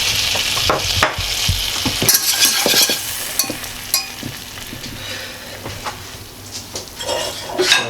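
Spatula stirring a pastry mixture of flour and salt in a pot, steady scraping and sizzling with occasional clinks of utensil against metal, close and loud with no talk.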